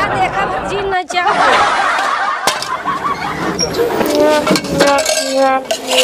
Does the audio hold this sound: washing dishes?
yes